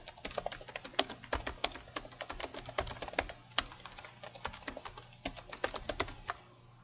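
Computer keyboard typing a search query: a steady, fast run of crisp, close keystrokes with brief pauses between bursts. No one speaks.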